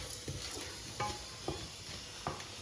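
Ingredients for haleem fry quietly in a pan, a soft steady sizzle with a few light stirring knocks at irregular intervals and no voices.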